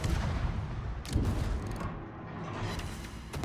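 Heavy naval guns on the Tier X US heavy cruiser Hawaii in World of Warships boom in rolling volleys, a dense sustained barrage with sharp cracks near the start and end, loud and with no talk over it.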